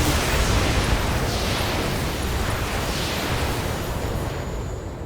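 Dense, continuous roaring blasts of weapons fire and explosions from the BattleTech mech combat game, loud and unbroken, with layered booms washing together throughout.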